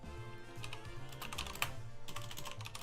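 Quick, uneven clatter of keys on a computer keyboard, close by and steady for a few seconds, with bursts of faster taps and a light background hum.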